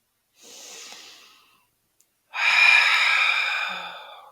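Slow breathing during a seated chair yoga routine: a soft inhale followed by a pause, then a longer, louder exhale, close to the microphone with no talking.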